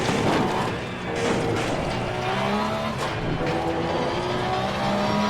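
Race car engine in Assetto Corsa Competizione on an outlap at Zolder, revving up and down through gear changes close by, with some tyre noise and no talk.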